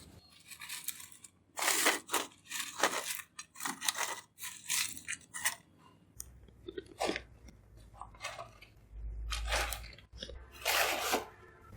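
Close, crisp crunching of homemade Lays-style potato chips dusted with masala, heard as repeated bursts of bites and chewing with short pauses between them, without any talking.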